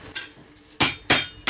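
Iron Age style blacksmith forging at an anvil, the hammer striking hot metal in a few sharp ringing clangs, loud and close, with quieter taps between.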